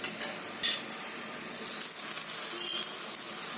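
An aloo methi paratha fries in oil on a griddle just after being flipped, giving a continuous hissing sizzle that swells toward the end, with a couple of faint clinks early on.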